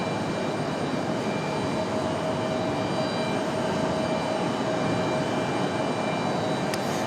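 A Southwest Airlines jet on runway 23 right at Raleigh Durham airport gives off a steady, broad engine roar with a faint whine, continuous and fairly loud, with no talking.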